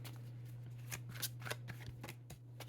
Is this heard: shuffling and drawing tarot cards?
yes